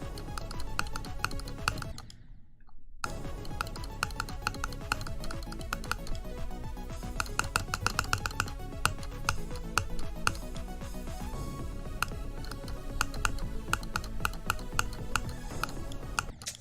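Hard, rapid clicking from a player in Geometry Dash, a dense steady patter of clicks layered over loud game music, running almost continuously apart from a brief break near the start.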